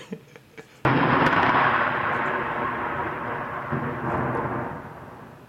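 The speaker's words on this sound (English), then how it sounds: "It's always the lightning and thunder that comes to bail me out" Thunder crashes suddenly after a few faint ticks of rain, a loud, sustained rumble that rolls on for several seconds and slowly fades, with no voices.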